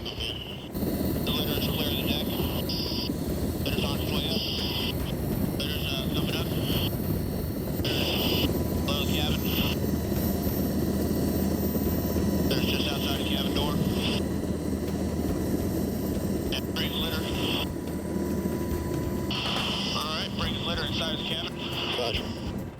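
A rescue helicopter hovers over a frozen coast during a litter hoist, its rotor roar loud and steady throughout while a rhythmic high whine pulses on and off above it.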